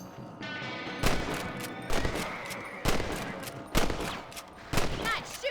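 Rifle shots crack out in Red Dead Redemption while rabbits are being hunted, five sharp loud reports spaced about a second apart over a quieter outdoor background with faint voices.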